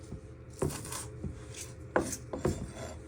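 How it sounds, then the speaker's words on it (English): Knife chopping fresh chives on a chopping board, a few sharp, close chops with rasping board scrapes between them, no talking. "You bring them back together and just give them one final chop."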